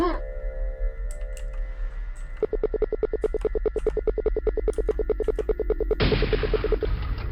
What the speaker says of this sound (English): Oh, that's my phone.